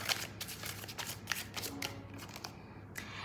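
Tarot cards being shuffled by hand, with a run of quick papery riffles and soft slaps in close succession, near and fairly quiet with no voices.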